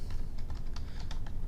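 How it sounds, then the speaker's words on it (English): Quick keystrokes on a computer keyboard, a steady run of light clicks over a dense low background rumble, close and moderately loud. "I just start typing"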